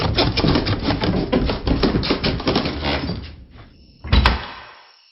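A door pulled shut in a dark basement, a single solid thump standing out near the end after a dense, busy stretch of background sound, then fading to quiet.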